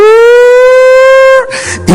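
A prison yard siren sounds as a loud, steady, slightly rising wail, then cuts off abruptly and gives way to a rushing noise and a short burst of louder sound.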